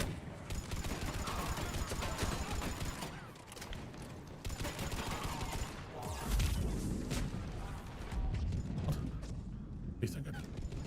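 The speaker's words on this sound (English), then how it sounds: "It's just a shotgun." Shotgun blasts in the Mass Effect game ring out within dense combat noise: repeated sharp, booming bursts over a constant clatter of gunfire and impacts, loud and close throughout.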